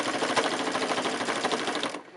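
Sewing machine running steadily while stitching binding around a gentle curve on a quilt, a close, continuous rapid whirring clatter that cuts off abruptly near the end.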